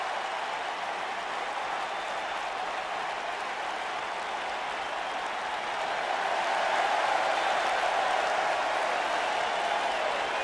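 A wrestling arena crowd at a WWE Extreme Rules event cheers and applauds in a dense, steady roar that swells a little louder partway through, with no voices standing out.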